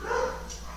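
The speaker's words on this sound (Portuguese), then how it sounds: "meus cachorros estão latindo" Dogs barking at a distance, a short muffled burst of yips in the first half-second, faint behind steady room noise.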